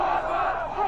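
A large crowd shouts and roars together in a scene from the film Children of Men. The sound is a dense, sustained mass of voices like a battle cry, heard loud and continuous over the brief stretch.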